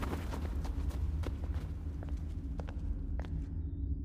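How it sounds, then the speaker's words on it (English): Quick pitter-pattering footsteps of a child running through indoor halls, a steady patter of light impacts over a low rumbling background, moderately close and continuous for several seconds. "The sound of pitter-pattering footsteps echoes through the halls."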